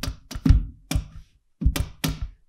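A thumb strikes the low E string of an acoustic guitar to mimic a drum side-stick, giving six short, dry percussive clacks in an uneven rhythm, close and fairly loud with quiet gaps between hits.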